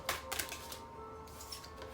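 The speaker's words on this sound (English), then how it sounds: "these cards were shuffled and they just spit out like that" Tarot cards being shuffled and flicked out of the deck, a few crisp papery clicks and snaps in short bursts, fairly close and quiet.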